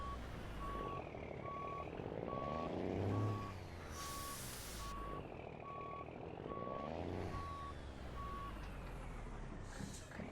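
Truck reversing alarm from a semi backing up in a truck-driving game, a steady run of evenly spaced beeps over a loud engine rumble, with a brief air-brake hiss in the middle.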